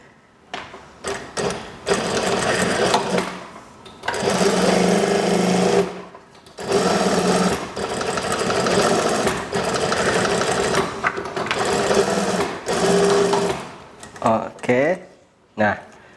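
Sewing machine stitching the side seam of a pair of school trousers, running in loud close bursts of rapid whirring and clatter separated by short pauses and clicks, with talking over it.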